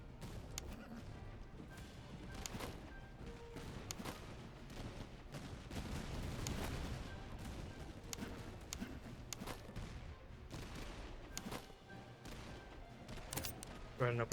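Musket volleys in the Master of Command strategy game crack out in dense, overlapping rolling bursts with heavy thuds, continuous and loud throughout, with faint battle noise underneath.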